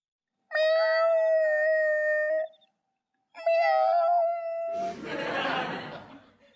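A person imitates a cat with two long, drawn-out meows, then bursts into laughter.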